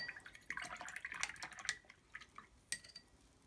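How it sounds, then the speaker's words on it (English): Paintbrush rinsed in a small container of water, quiet clinks and taps of the brush against the container with light splashing and dripping, close and soft, no voices. "I'm just going to add a little bit of water here and clean this out"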